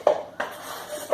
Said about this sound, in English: I'm going to put that into a largish bowl